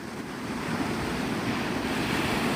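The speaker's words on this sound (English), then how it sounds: "you can at least listen to the waves" Ocean waves at Navarre Beach, Florida, at sunrise roll in as a steady, loud wash of surf with wind rumbling across the microphone and no voices.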